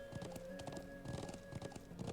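Steady clip-clopping of a horse's hooves in Trails of Cold Steel, a trotting rhythm over game music, with a faint whinny-like note from the horse near the close.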